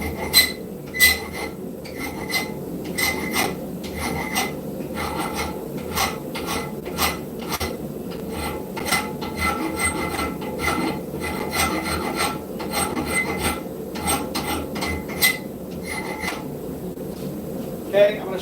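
A hand file rasps across scrap steel while a knife is being forged, in a close, steady series of rhythmic scraping strokes with small pauses between passes.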